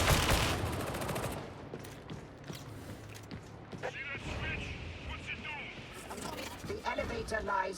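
Rapid submachine gun fire in the video game Darktide, loud bursts crackling under a game soundtrack and voices, with intermittent shots scattered across the clip.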